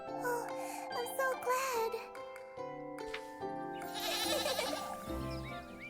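A goat in a children's storybook tale lets out warbling, wavering bleats, a couple of calls rising over sustained tonal background sounds at moderate loudness.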